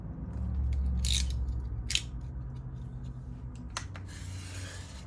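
Knife drawn along a ruler through leather for a skull and basket weave wallet, a few soft rasping scrapes and brief crisp strokes close by over a low steady hum, no talking.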